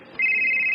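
Incoming-call ringtone on a mobile phone: a bright steady electronic tone that starts abruptly and holds at constant loudness, close and clear.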